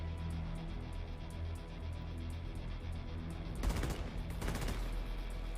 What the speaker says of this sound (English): That's a burst fire.